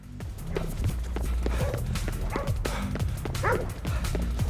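A dog in the video game Ghostwire: Tokyo barks repeatedly in an uneven rhythm, mixed with yips and faint whimpers over low ambient game sound.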